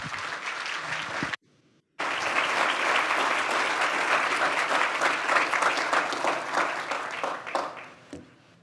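An audience at a university lecture breaks into sustained applause, dense clapping from a full room that briefly cuts out, then resumes and tapers off.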